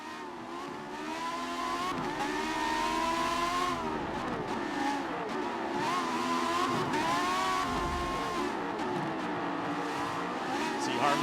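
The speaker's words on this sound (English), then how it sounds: "let's take a listen in to this 1976 McLaren M3" A 1976 McLaren M3 race car engine in the Forza racing game, a sustained high, rising and falling engine whine through gear changes, loud and continuous throughout.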